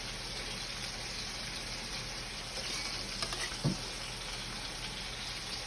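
Fresh green beans sizzle in warm olive oil in a pan, a steady close hiss with a few brief pops and clatters partway through.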